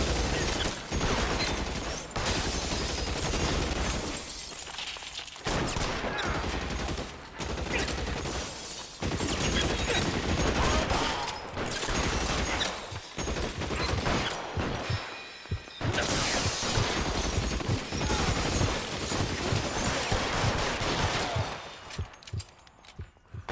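Gunfire in the video game L.A. Noire: loud, dense, continuous shooting with clattering mechanical bangs and crashes, broken by a few brief lulls and fading toward the end.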